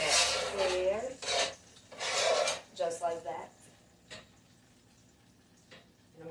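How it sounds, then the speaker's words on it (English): A utensil scrapes bacon grease and burnt bits in a pan in several loud rasping strokes, near and harsh, with short pauses and lighter scrapes between them. "you're going to scrape some of this grease and burnt stuff and put a little slot where the fat goes"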